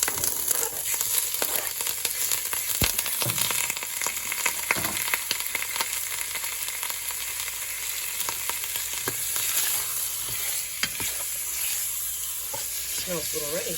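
Pork sizzles and crackles steadily in melted butter in a pan, with stirring and scraping noises throughout, close and continuous.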